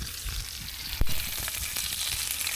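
Food frying in cooking oil at a campsite, a close, loud, steady sizzle and crackle with one sharp pop near the middle.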